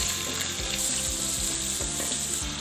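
Potatoes frying in ghee with cumin seeds in a pan, a dense continuous sizzle with soft stirring scrapes, close and steady without any talking.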